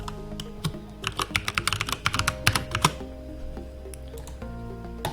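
Password typed on a computer keyboard: a close, quick run of light key clicks for about two seconds, then a few scattered taps over a steady background.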